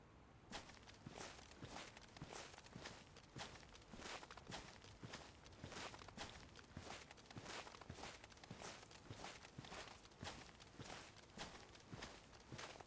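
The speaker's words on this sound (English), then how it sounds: "I heard footsteps behind me." Footsteps in a video game plod along in a steady, even rhythm, each step a crisp, close, fairly loud thump repeating about twice a second with no pauses and no voices.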